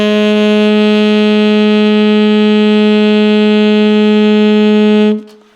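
A saxophone holds a single steady middle B flat, a loud, bright, buzzy sustained tone rich in overtones that lasts about five seconds and then stops cleanly, with no talking.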